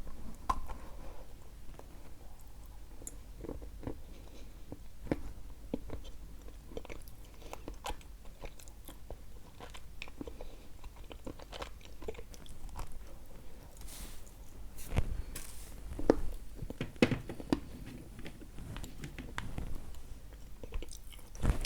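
Someone bites and chews a sample of a Bashkir variety, producing faint, irregular crunches and soft squishy chewing sounds at close range, with a few louder bites later on and no talk.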